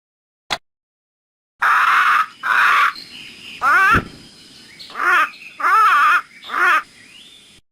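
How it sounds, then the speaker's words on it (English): Loud, harsh macaw parrot screeches from a 1998 educational video game, a brief click followed by six raspy calls in quick succession, each strong and close, with short gaps between them. "Like other parrots, it has a loud, screeching call"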